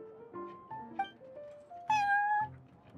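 Prince the cat meows in the Cat's Tail in Genshin Impact: a string of short, tonal meows rising and falling, then a longer, louder drawn-out meow near the end, heard clearly and close with no talk over it.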